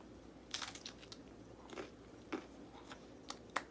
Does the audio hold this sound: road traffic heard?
no